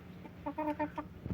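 A chicken clucks close by in a short run of four or five quick, evenly spaced clucks, heard alone over a faint background hum.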